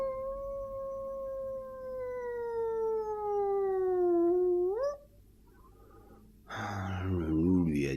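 A human voice imitates a wolf howling with one long, drawn-out, gradually falling tone that rises sharply at its end, followed by a pause and then some rough breathy vocal sounds.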